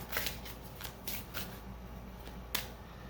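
A deck of tarot cards is shuffled by hand, giving crisp papery riffles and flicks in several short bursts close up, with a sharp snap near the end.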